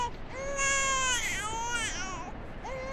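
A baby wails in the horror video game Outlast 2, a close, loud, sustained cry with rising and falling sobs over about three seconds, heard on its own.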